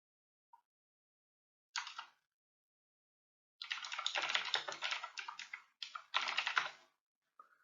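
Bursts of typing on a computer keyboard while entering a Google search, with short isolated keystrokes followed by a long run of rapid, close clicking and a few quick pauses, in an otherwise quiet room.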